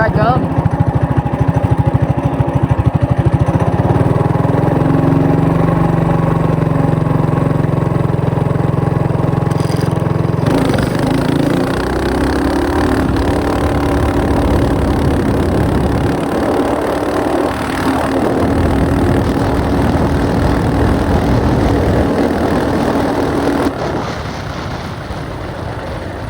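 A mini bike engine roaring through an eighth-mile drag run, loud and steady buzzing that shifts pitch as it revs and carries on for about twenty-five seconds before easing off.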